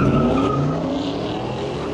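Ford and Chevy street race cars on a closed-off road at night, tires skidding and squealing over loud, continuous engine roar, close by and without talk.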